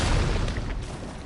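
In Elden Ring, a boss lands from a jump with a heavy, booming rumble that fills the whole moment, loud and dense, over continuous game noise.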